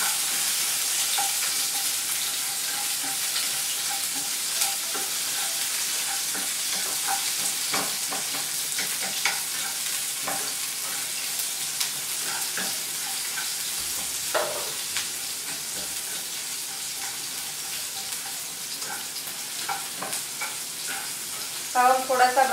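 Onions fry in oil for a crispy okra fry dish, producing a loud, continuous sizzle that crackles and pops throughout, with occasional stirring clatter.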